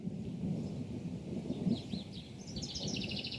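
A low rumble of thunder rolls steadily from an approaching storm outdoors by a garden, fairly faint, with small birds chirping lightly on top.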